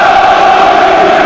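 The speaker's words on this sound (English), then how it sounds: "The crowd really trying to play their part here" A loud, steady roar from the football crowd at Tottenham Hotspur v Chelsea fills the stadium as a broad, continuous wash of noise, with no distinct talking.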